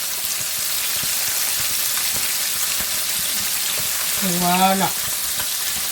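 Red mullet pieces fry in oil in a pan, giving a loud continuous sizzle and crackle throughout, with a short spoken word near the end.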